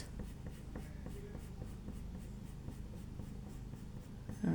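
A pencil eraser rubs gently over a black and white paper bookmark in quick, steady back-and-forth strokes, soft and close, a continuous light scratching rhythm with no talking.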